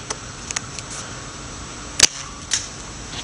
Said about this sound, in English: So, there's the gun firing for you guys.